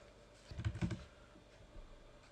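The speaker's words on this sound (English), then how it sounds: "I will hold down Control, caps lock, so I write with capitals" A handful of quick keystrokes tap on a computer keyboard in a short burst, close and crisp, followed by a faint single click in a quiet room.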